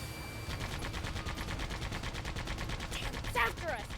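A rapid stream of mechanical, rattling bursts from a jumping robot enemy firing missiles in the video game Sandland, steady and fairly faint throughout, with a brief whooshing burst near the end.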